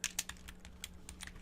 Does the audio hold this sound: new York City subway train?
no